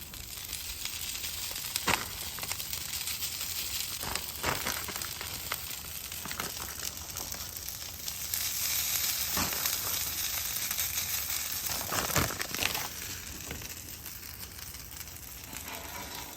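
Breakfast sizzles and fries in beef tallow on a Traeger Flatrock griddle, a constant close crackling hiss with occasional brief scrapes and stirring sounds.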